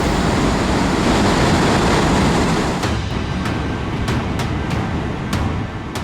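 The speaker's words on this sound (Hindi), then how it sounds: "देखिए, बाढ़ का पानी कैसे घरों की दहलीज को लांघता और रिहायशी इलाकों को चीरता हुआ आगे बढ़ रहा है।" Floodwater in Sikkim rushes through residential streets and over house thresholds as a loud, continuous roaring wash, with a few sharp clicks toward the end.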